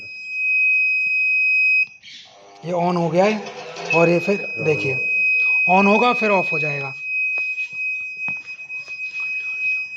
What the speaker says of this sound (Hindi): बीप कंटिन्यू बीप आ रहा है फॉल्ट का